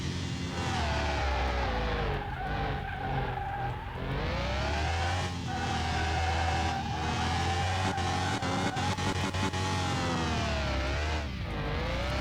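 A Jaguar E-Type engine in Car Mechanic Simulator 2021 revs hard and shifts up through the gears, its loud, steady harmonic drone rising and dipping with each change and tyre noise underneath.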